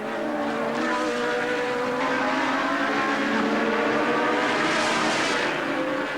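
1982 Formula 1 race cars screaming past at speed, a loud steady high-pitched engine howl with shifting tones as several cars race close together.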